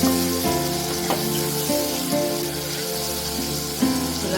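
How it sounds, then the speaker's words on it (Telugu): Tomato pieces fry vigorously in hot oil in a kadai for a dal, giving a dense, steady sizzle and crackle close up. A low tonal hum from background music runs underneath, and nobody speaks. "టమాటా ముక్కలు వేసుకొని దీన్ని బాగా వేగనివ్వాలి"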